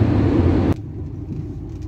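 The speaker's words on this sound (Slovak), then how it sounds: "Tak toto je ukaz Felicia na diaľnici s diaľničnou známkou." A Škoda Felicia GLX drives on the highway with a steady, loud low road-and-engine rumble that drops abruptly partway through to a quieter cabin drone.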